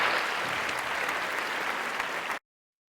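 Steady applause welcoming a guest on a podcast, a continuous wash of clapping and crowd-like noise at moderate level that cuts off abruptly into silence.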